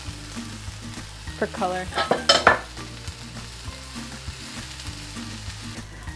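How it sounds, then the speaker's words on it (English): Quinoa and craisins are stirred in a sizzling pan for stuffed squash, with a steady frying hiss, a burst of louder scraping and clatter midway, and a brief spoken phrase. "So I'm gonna throw some quinoa in there. Stir that all up."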